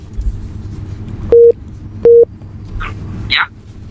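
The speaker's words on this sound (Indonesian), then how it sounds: "ada telepon di belakangnya, silakan." A telephone sounds in the background with two short, loud electronic tones about a second apart, followed by a faint rising chirp, over low room noise.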